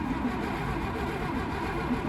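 A Hotchkiss car's engine, started with a key, runs with a steady low rumble close by, a continuous mid-pitched drone without distinct revs across the short stretch.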